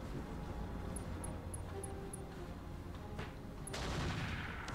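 Gunfire rattles in the BattleTech mod Roguetech: a dense, steady barrage of weapon fire with a few sharp high blips, building into a louder burst near the end.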